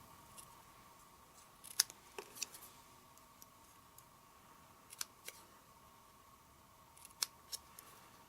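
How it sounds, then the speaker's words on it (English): Scissors snip through paper, trimming a homemade banner: a few sharp, close clicks and slices scattered across an otherwise quiet room, with irregular pauses between cuts. "then cut toward the center to make my banner"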